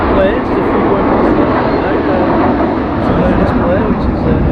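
Aircraft flying past at the RIAT 2023 airshow, heard as a steady, broad, distant jet roar blending with outdoor crowd ambience at a campsite, continuous through the clip.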